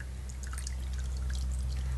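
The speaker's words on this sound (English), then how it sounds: "So I'm just going to add my lye water to my oils to start with." Lye water poured into soap-making oils for a cold process soap, a soft steady liquid trickle and pour, close and fairly faint over a low background hum, no talk.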